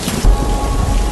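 Heavy rain pours steadily, with a deep rumble of thunder rolling underneath, loud and close throughout.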